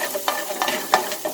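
Butter, about a tablespoon, sizzles in a pan before garlic and asparagus go in, giving a soft crackling fry broken by a few brief stirring scrapes, close and fairly quiet.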